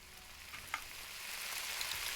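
Asparagus sizzles steadily in a pan in the video game Cooking Simulator, a soft continuous frying hiss with a faint tick or two, growing slightly louder toward the end, no voices.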